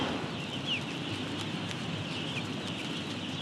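A dense crowd of chickens inside a shed on an organic farm, a constant close murmur of clucking and soft chirps forming a steady, busy wash of bird noise.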